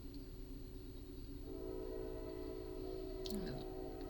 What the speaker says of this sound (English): as I was saying before the train rudely interrupted me